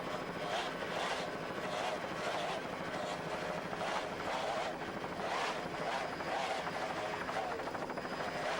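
A powerboat with two 2.5 EFI outboard engines races off Key West, Florida, in 1994, giving a loud continuous engine roar that pulses as the hull pounds, mixed with wind buffeting.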